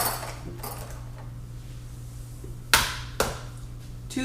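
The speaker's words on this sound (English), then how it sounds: "2 taps. Not very hard, just firm enough to start breaking the egg." An egg tapped twice against a bowl to crack it in a kitchen, two crisp, close knocks about half a second apart over a quiet background hum.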